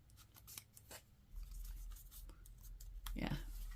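Scissors snip through a paper craft piece in several short, crisp cuts spread across the moment, close and fairly quiet, with a low hum and light handling noise underneath.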